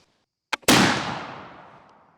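A Traditions Deer Hunter flintlock rifle loaded with 60 grains fires once: a short flash-pan crack, then the loud main boom a split second later, ringing out and decaying over more than a second.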